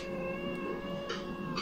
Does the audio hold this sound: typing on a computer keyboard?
no